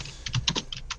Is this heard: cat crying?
no